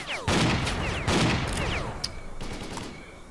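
Repeated loud shotgun blasts in S.T.A.L.K.E.R. Clear Sky, roughly three heavy booming shots spaced about a second apart, each trailing off into a ringing decay.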